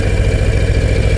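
A Harley-Davidson Low Rider ST's big 117 cubic inch (1923 cc) V-twin idles steadily close by, a deep, continuous rumbling throb with no talk over it.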